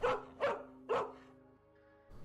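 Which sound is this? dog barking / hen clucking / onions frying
dog barking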